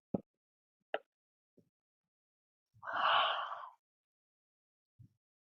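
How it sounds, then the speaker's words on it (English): One deep breath in a yoga neck and shoulder stretch, a single soft, breathy exhale or sigh lasting under a second, heard alone and close, with a few faint clicks and small breath noises around it. "Deep breath here."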